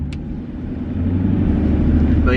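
A 6th gen Chevrolet Camaro engine rumbles steadily, building slightly in loudness as the car pulls away, with a deep low growl throughout and a brief high click near the start.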